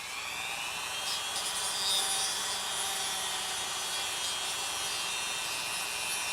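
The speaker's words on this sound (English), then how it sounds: "But I want to grind this dome flat too." A rotary tool grinds a plastic dome flat for a Star Wars snowspeeder scale model, a steady high whine with a gritty abrasive hiss, continuous and close.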